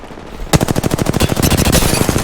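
Rapid automatic gunfire in Apex Legends during a ranked match, a loud sustained burst of evenly spaced shots that starts abruptly after a brief quiet moment and continues to the end.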